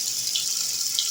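Brownish tap water gushes steadily into a sink, a close, bright, continuous hiss and splash with slight surges and no voices.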